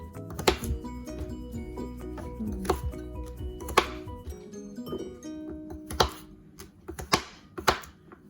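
Knife chopping vegetables for a veggie chilli on a board, a run of sharp irregular clacks and thunks, close and distinct, spaced unevenly with brief pauses between cuts.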